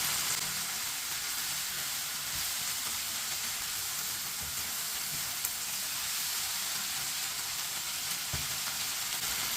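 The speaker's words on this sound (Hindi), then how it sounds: "तीन मिनट के लिए मैंने चम्मच चलाते हुए भून लिया है" Okra masala frying in a pan on the stove while a spoon stirs it, a steady close sizzle and hiss throughout with faint scraping of the spoon, no talk.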